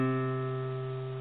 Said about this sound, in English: So we're going to start with the ring finger on the 5th string, 3rd fret, and it should sound like this.